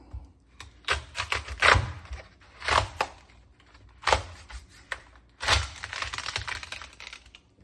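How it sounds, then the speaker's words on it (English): A knife cuts into a large, heavy home-grown red cabbage, giving a series of crisp crunching cracks in bursts, with a longer crackling tear near the end, close and fairly loud with no talk. "We're gonna cut into this beautiful cabbage."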